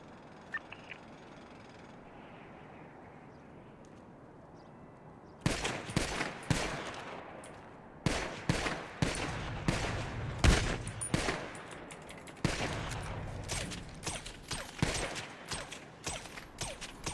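Gunfire from a shooter in a video game: after a quiet stretch, loud bursts of rapid shots and fusillades crack repeatedly, in clustered volleys with short pauses between them.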